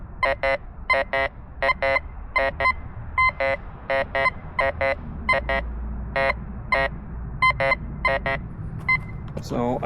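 A Golden Mask 4Xtreme metal detector responding to iron held close, giving rapid, regularly repeating electronic beep bursts in steady pulses, loud and clear throughout the clip.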